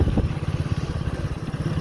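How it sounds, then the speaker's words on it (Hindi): A motorcycle runs in fourth, its top gear, at about 20 km/h with the throttle barely open, a steady close low engine putter pulsing in a fast even rhythm with no talking. "बाइक चल रही है हमारी 4th गियर मतलब टॉप गियर में, और 20 की स्पीड, हल्की सी रेस"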